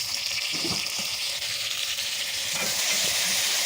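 Tomatoes fry with a steady sizzle in a pan of lightly browned garlic, broken by occasional scraping stirs, for an aloo methi curry. The hiss stays close and constant throughout, with no talk.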